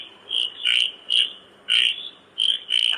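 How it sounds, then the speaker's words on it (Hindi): A frog croaks in a run of about six short, loud, rasping calls, evenly spaced, each close and clear against a quiet background. "तो भैया मेढक की आवाज आ रही है"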